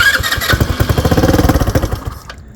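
A Motobravo Roma 150cc scooter engine cranks with a rapid, pulsing chug that catches and runs roughly for about two seconds, loud and close, then cuts off abruptly.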